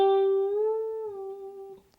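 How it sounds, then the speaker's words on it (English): A single electric guitar note played at the 12th fret, its string bent up a full step and held, then slowly decaying; close, clean and with no talking. "we're going to bend that up a full step and try to make that same sound using a bend"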